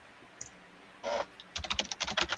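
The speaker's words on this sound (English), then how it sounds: "I'm rapid typing." Rapid typing on a computer keyboard, a fast burst of crisp, close key clicks following a short rustle, the clatter dense and uneven in rhythm.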